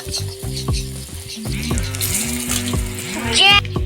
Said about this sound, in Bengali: পেঁয়াজি ভাজা হচ্ছে নাকি মা